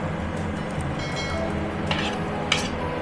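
Grated coconut frying with onion, salt and green chilli in a pan for Bengali-style narkel bhaja, giving a steady close sizzle and stirring scrape, with a couple of sharp utensil clinks against the pan.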